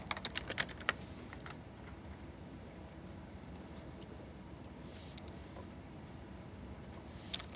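Computer keyboard typing, a brief cluster of close key clicks at the start and a few more near the end, faint over a steady background hiss with long quiet gaps between.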